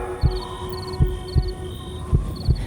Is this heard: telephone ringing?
no